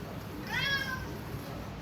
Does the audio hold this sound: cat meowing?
yes